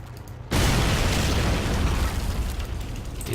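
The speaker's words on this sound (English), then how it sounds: "Those high explosive shells are exceptional at dealing with infantry." A high-explosive tank shell detonates in the WWII strategy game Men of War, a sudden loud boom that breaks in sharply and then rolls on as a sustained, dense rumble of debris and noise with no talk over it.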